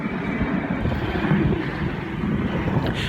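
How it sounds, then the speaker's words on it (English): Military airplanes from a nearby Air Force base fly over, filling the air with a steady, loud, rumbling roar that persists from start to finish, with no one talking. "I live right behind an Air Force base, so sometimes we hear these planes"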